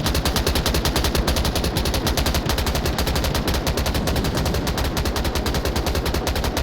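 Rapid automatic gunfire in a competitive team shooter match, a continuous stream of sharp, evenly spaced shots rattling loud and close for several seconds with no talk over it.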